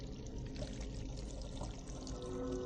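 In the video game Still Life, water pours out of a bucket, a quiet, continuous splashing gush over a low background rumble, with no voices.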